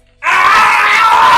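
A person imitates the Tom and Jerry cartoon scream with a loud, sustained, raspy shriek that starts abruptly and holds steady close to the listener.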